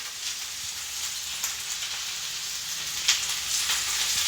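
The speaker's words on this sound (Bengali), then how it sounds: "এখানে রান্না বসিয়েছে, রান্না চলছে" A curry of potatoes and brinjal (eggplant) sizzles in a pan, giving a steady, hissing, crackling fry with occasional sharper pops, fairly soft and without talk.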